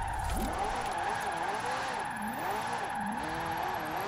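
McLaren P1 hypercar in Forza Horizon 4 drifting, its engine note wavering up and down in repeated swells as revs rise and fall, with a steady tonal hum over the whole stretch.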